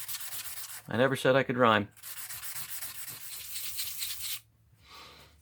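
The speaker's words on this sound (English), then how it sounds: "Here we go with the 500 grit. Gonna rub it on stone and see what it looks like." Rough scraping of milky quartz stone against 500 grit abrasive, a sustained gritty rubbing stroke that runs for several seconds after a short burst of spoken talk, then a fainter final rub.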